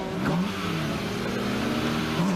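A drift car's engine revs hard at the start of a battle run at the French Drift Championship, a rising, sustained mid-pitched roar that climbs in pitch and then holds, loud and close.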